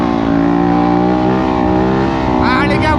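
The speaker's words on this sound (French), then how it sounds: "on va éteindre la moto et la redémarrer." A dirt bike on a city street starts up and runs with a loud, buzzy, harmonic engine note close by, then rises into a sharper rev toward the end. A voice is faintly mixed in under the engine.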